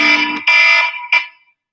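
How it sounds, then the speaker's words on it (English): A wife's alarm sounds in three loud, bright electronic bursts, two long and one shorter, then stops. "My wife's alarm coming up."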